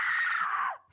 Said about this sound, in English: Professional scream artists come in during post production of a film or show to dub the sound of screams